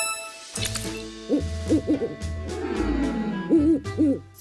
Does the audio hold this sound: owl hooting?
yes